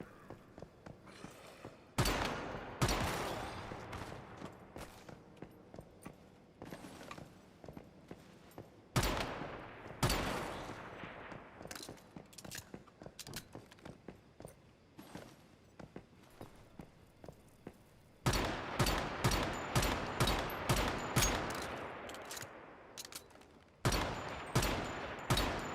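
Gunfire in the survival zombie game 7 Days to Die, with sharp shots scoring headshots, spaced out in clusters of loud cracks among quieter stretches of shuffling and footsteps.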